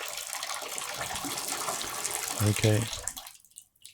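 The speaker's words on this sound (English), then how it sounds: "Might as well grab a shower and change your clothes in the meantime." Shower water runs in a video game as a steady wash of spray. A brief voice speaks over it near the end, then the water cuts off into silence.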